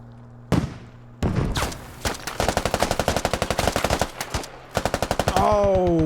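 Heavy machine gun fire in the military shooter Squad, loud rapid bursts of shots in quick rhythmic strings with short pauses between them, ending in a sustained ringing tone.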